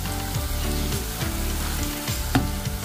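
Tofu fries in a shallow layer of cooking oil with a continuous crackling sizzle and scattered sharper pops, close and steady throughout, with no voices.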